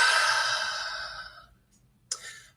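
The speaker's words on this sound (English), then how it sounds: "take a big deep breath" A big, deep breath let out slowly as a long airy exhale that tapers off over about a second and a half, then silence and a short sharp intake or sniff right at the end.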